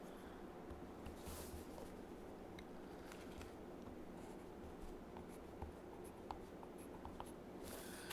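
A pencil draws lines for an orthographic projection on paper, a quiet, close, continuous scratching with small strokes and taps throughout.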